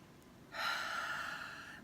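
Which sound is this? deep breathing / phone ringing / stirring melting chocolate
deep breathing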